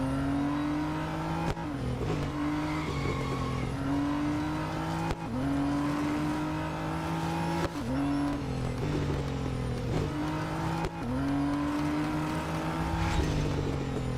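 Race cars in the Real Racing 3 video game roar continuously at full throttle, engine pitch climbing through each gear and dropping sharply at every upshift, with brief lifts and tire noise, loud and alone.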